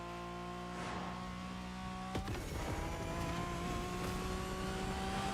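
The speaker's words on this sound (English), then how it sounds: "Hit my nitrous on this straightaway." A car's engine in The Crew Motorfest revving hard on a straightaway as nitrous boost kicks in, a sustained rising drone with a sharp burst partway through, loud and steady with no talking.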